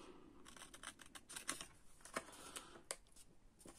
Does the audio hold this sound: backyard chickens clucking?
no